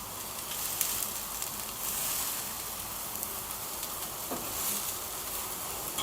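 Lamb loins stuffed with spinach and feta sizzle steadily on a grill rack under melting herb butter, a continuous close, bright crackling hiss with small pops and no talk.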